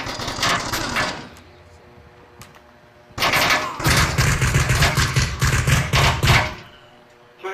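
Automatic gunfire in a multiplayer VR shooter game on Oculus Quest: a short rattling burst, a pause, then a longer, dense, loud volley of rapid shots with a heavy low thump, ending abruptly.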